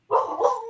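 One dog bark, a short close yelping bark with a slightly whiny, dipping tail, loud and alone.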